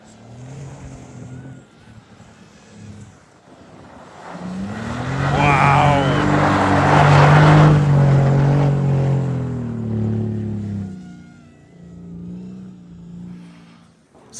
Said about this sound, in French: ils sont 4 dans le Urus à faire de la drift